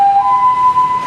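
A loud ambulance siren holds a steady piercing tone at close range through the whole short stretch, with no talking.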